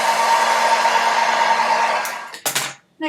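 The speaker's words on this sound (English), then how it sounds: "I hate blow drying my hair, people." A hair dryer blows on hair with a loud, steady airy roar for about two seconds, then sputters through a few short bursts as it is switched and repositioned before falling silent.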